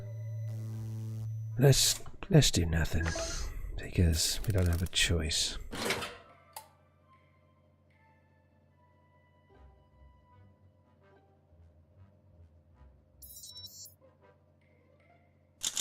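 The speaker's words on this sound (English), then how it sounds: "It sounds like a gloopy-loose version of Morse code" Morse-like alien radio signal in the space game 60 Parsecs: a buzzy electronic tone opens, then speech, then faint low pulsing beeps trailing off with a brief high chirp near the end.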